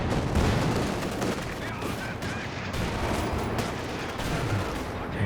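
Bazooka fire against a German Panzer IV tank in the World War II strategy game Company of Heroes 2: loud, constant battlefield din of blasts and rattling gunfire with no quiet gaps.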